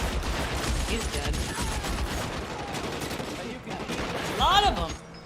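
Rapid bursts of gunfire crack through a shootout in the video game LA Noire, loud and dense with overlapping shots, under ongoing game noise and a voice.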